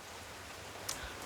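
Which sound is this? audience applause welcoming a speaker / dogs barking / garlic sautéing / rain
rain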